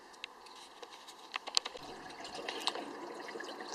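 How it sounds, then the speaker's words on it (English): Water from a garden hose filling a hot tub, a close, quiet trickle with patters and small splashes building steadily, no voices. "So I'm still filling this up the way they want in the manual. You put the hose in there"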